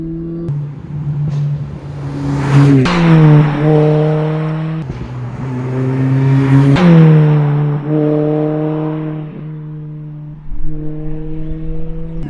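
A Mini GP R53 accelerates hard along narrow country roads, its supercharged engine revving loudly and close through rising gear pulls with brief drops at each shift, steady and unaccompanied by talk.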